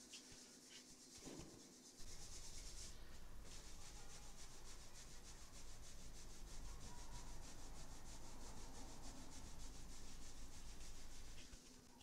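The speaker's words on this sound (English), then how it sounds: "Rub the hands together." Palms rub together in a steady, continuous whooshing friction during a relaxed t'ai chi session, close and fairly even for about ten seconds after a brief quiet start.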